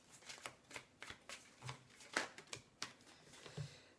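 Tarot cards are shuffled by hand in a quick, uneven run of soft riffling snaps and flutters, close and fairly quiet, with no voice over them.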